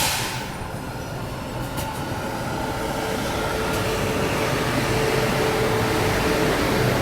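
A train rolls in at platform 7 of New Delhi station, a loud, continuous rumble of railcars with a faint squeal near the start and no speech.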